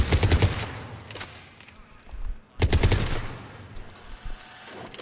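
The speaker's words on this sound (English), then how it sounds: "Still great when fired in burst at mid." Cerberus Harrier rifle firing in Mass Effect 3: rapid, punchy automatic bursts, loud and close, two main volleys separated by a short gap with fainter shots trailing off.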